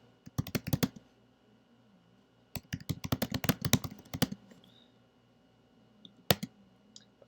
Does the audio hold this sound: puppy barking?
no